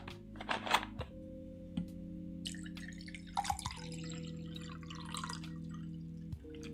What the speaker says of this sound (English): Pouring myself a drink